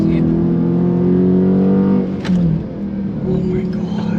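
Dodge Charger Scat Pack drifting on the Nürburgring, heard as a loud sustained engine drone that shifts pitch as the throttle is worked, then dips and recovers with faint tyre noise.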